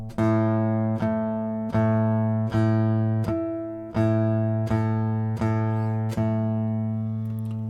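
A single A note on a guitar is plucked repeatedly, about ten times at a steady pace, each ringing with rich overtones before the next pick.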